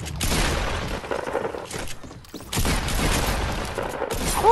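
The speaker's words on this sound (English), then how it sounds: "I heard someone take shield damage." Fortnite Battle Royale gameplay sounds play loud and continuous, with dense crackling bursts like gunfire and impacts from players taking shield damage, plus brief pauses and a short rising tone at the end.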